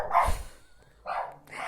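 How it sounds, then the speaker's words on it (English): A dog barks twice, two separate gruff woofs spaced about a second apart, close and moderately loud with a quiet gap between them and no talking. "Second free sound effect of the podcast. A dog barking."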